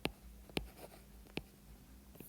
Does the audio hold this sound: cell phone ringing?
no